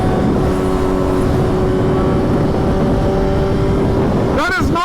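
A 2024 BMW M1000XR super sport touring motorcycle roars loud and steady on the street, its engine howling continuously before a rising rev sweep near the end.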